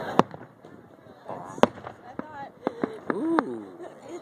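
Fireworks burst over a lake at night, several sharp loud bangs spread across the moment with crackling decay, while people chatter and laugh nearby.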